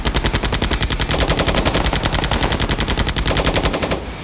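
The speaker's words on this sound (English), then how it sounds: "the raiders were shot from the tank's many armored machine guns" Heavy machine guns on an armored tank fire a long, rapid sustained burst, loud and close. The shots come in an even rhythm and cut off near the end.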